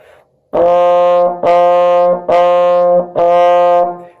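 A trombone plays four detached F notes in an even, steady rhythm, each sustained nearly a second, loud and up close.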